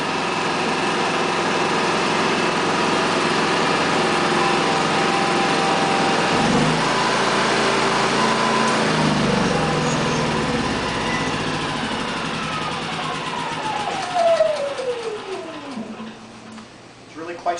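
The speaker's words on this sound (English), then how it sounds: "Once you've started the generator and it's running, you can go ahead and flip it to the economy mode. At that point, it's a whole lot quieter." A Yamaha EF6300iSDE inverter generator runs in economy mode, giving a steady, fairly loud engine hum that shifts to a lower, quieter drone partway through, with a falling tone near the end.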